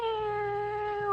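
A long, drawn-out cat meow in a radio drama, one steady wavering yowl held clearly and close for over a second with no talk.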